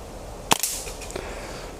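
A single sharp crack from a Walther Rotex RM8 air rifle fired at night at a field target among foliage, followed by a faint thump of the pellet striking about half a second later.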